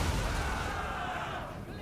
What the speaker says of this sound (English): using artillery to pound the elves as they advance